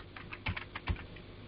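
Computer keyboard keys tapped while writing code, a quiet uneven run of light clicks with two heavier keystrokes standing out, close and alone with no talking.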